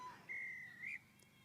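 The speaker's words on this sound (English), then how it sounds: "Whistles up again, not rolling away" A referee's whistle at a women's rugby match, one long shrill blast followed by a shorter second toot, sounding moderately distant over a quiet field background.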